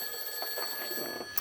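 An unanswered scam call from card holder services keeps a telephone ringing faintly as a thin, steady electronic tone beneath soft room noise.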